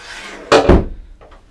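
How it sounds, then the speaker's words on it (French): A swinging door in a cabin aboard a small mega yacht bangs once, loud and near, followed by a fainter knock as it settles. "Non, là c'est une porte battante."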